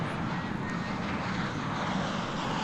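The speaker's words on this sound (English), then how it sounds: "The big A380 is on the move." An Airbus A380 jet airliner being pushed back at DFW Airport gives off a continuous broad roar of aircraft engines, steady and moderately distant throughout.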